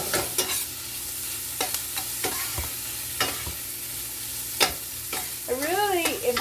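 Onions and cabbage fry on high heat in a skillet, giving a steady sizzle with sharp spoon scrapes and clatters as the food is stirred.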